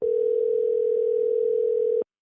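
A steady telephone dial tone, loud and continuous for about two seconds before cutting off abruptly, heard alone with no voices while placing a call.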